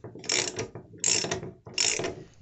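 A ratchet tool clicks through three tightening strokes in quick succession, each a burst of sharp metallic pawl ratcheting close by, with short pauses between strokes.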